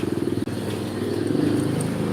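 Motorcycle engine idling close by on a muddy road beside a stuck truck, a steady pulsing putter with a brief dip, then the engine note rising slightly as it revs.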